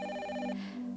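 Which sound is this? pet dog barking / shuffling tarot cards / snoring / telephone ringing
telephone ringing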